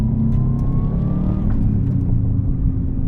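A 2003 Subaru WRX STi with the EJ207 engine drones under load while driving, a loud, steady engine hum inside the car with a pitch that rises slightly, then settles.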